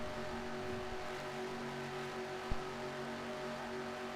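An onboard race car engine holds full throttle at Talladega in a racing game, giving a constant, steady whine with no let-up and one brief click partway through.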